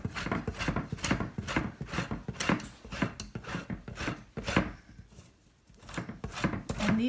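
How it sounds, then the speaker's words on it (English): Solid coconut oil grated into flour on a grater, producing rapid, evenly spaced scraping strokes, loud and close, with one short pause before the rhythmic rasping resumes. "I'm going to use this grater to grate the solid coconut oil into the flour, and it makes little shreds."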